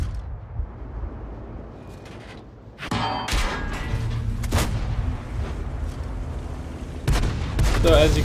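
Tank cannon fire in World of Tanks, a T29 heavy tank taking shots from enemies: sharp booming blasts near 3 s and 7 s over constant engine rumble, with metallic impact clangs ringing out after each hit.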